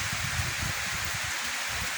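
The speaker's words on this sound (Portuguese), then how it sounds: "Chuva torrencial aqui em Lawrenceville, na Geórgia, Estados Unidos da América, dia 27 de junho de 2022" Torrential rain pours in Lawrenceville, Georgia, among many trees on grassy ground, a loud steady hiss of heavy downpour with dense pattering drops throughout.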